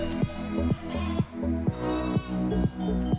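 A ewe bleats repeatedly up close, a series of short wavering cries in a fairly even rhythm, loud and with no speech over them.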